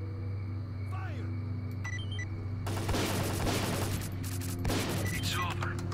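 Rapid bursts of gunfire from STALKER Call of Pripyat crackle in dense, loud volleys over a steady low hum, with a brief lull before a second flurry of shots.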